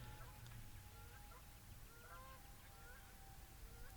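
A flock of geese honks faintly while flying overhead near a pond beside a boys' varsity baseball field, scattered repeated calls drifting through a steady outdoor background hiss.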